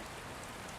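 Steady rain, a soft, even hiss of falling drops with no pauses, faint and continuous.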